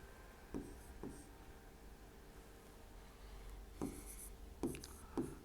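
Chalk or marker strokes on a board during a Class 10 maths lesson, a few short scratchy bursts spaced across the clip, then a tight cluster near the end, close and fairly quiet over a steady low room hum.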